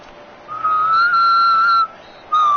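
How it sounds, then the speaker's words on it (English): Referee's whistle in a football video game blows a long sustained blast followed by a shorter one, clear and loud over a quiet stadium background. "So the whistle then."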